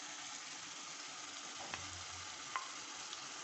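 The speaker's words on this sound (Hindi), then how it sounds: "हम डालते हैं ये प्याज, इसको 2 मिनट के लिए भूनेंगे।" Onions and tomatoes fry in a pan for chicken liver, a steady close sizzle with a few soft scrapes and taps of a spoon stirring.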